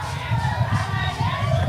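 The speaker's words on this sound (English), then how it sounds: "supporters cheering their teams on" Football fans and supporters at a Botswana vs Zimbabwe match in a stadium in the capital city cheer and roar in a steady, dense crowd wash, with distant shouting mixed through it.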